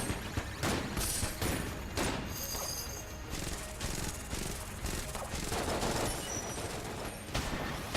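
Shell gun firing in Enter the Gungeon, a dense run of loud, sharp repeated blasts with constant game noise and brief pauses between volleys.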